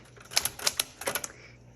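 Keys clacking on a 1973 Smith Corona Galaxie Twelve manual typewriter, about eight sharp close strikes in uneven clusters, some landing nearly together, with quiet gaps between.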